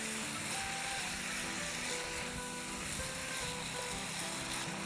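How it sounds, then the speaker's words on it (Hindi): Minced meat sizzles with chopped green chillies in a hot pan, a steady, dense frying hiss that stays loud and unbroken throughout, with no talking. "कीमे के साथ 2 मिनट सॉटे करेंगे।"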